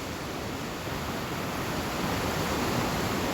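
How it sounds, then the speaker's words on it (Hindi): A cold mountain river at Kalam in Swat rushes past in a dense, steady roar of flowing water, loud and unbroken with no voices over it. "ये साथ दरिया है और बहुत ही खूबसूरत पानी है"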